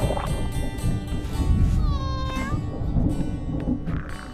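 A pet cat meows several times in a domestic setting, one drawn-out rising-and-falling meow standing out in the middle, close and clear over a low background.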